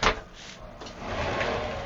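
Glass shower doors in the bathroom of a Winnebago Vista 31BE Class A motorhome being moved: a short knock, then a soft sliding swish that rises and carries on, close by with no talking.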